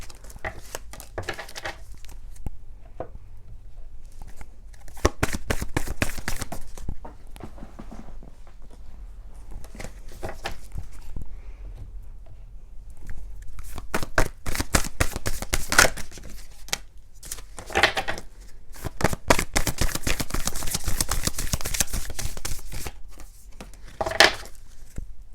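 Tarot and oracle cards are shuffled in bursts of quick riffling and flicking, close and crisp, separated by quieter pauses and soft handling sounds.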